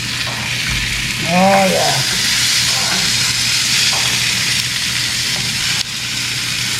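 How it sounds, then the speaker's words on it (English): Hamburger patties sizzle and hiss steadily in a hot pan as they are flipped, with a scrape and a short spoken remark over the continuous frying. "it's looking like it's about time to flip these burgers"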